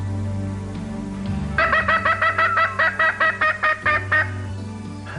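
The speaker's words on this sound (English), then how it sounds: "Gina, why is there a chicken in your living room?" A chicken in a living room gives a quick, rhythmic string of loud gobbling clucks, about a dozen bursts in a row over a low background hum.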